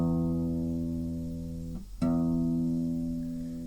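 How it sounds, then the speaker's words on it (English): The low E string of a guitar rings out for tuning, sustaining and slowly fading, then is plucked again partway through and rings on, heard alone. "the 6th E string sound like this"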